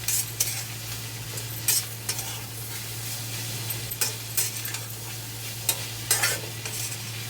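Ivy gourd pieces frying and being stirred in a pan, with a steady sizzle beneath irregular scraping strokes of the spoon against the pan and a constant low hum in the background.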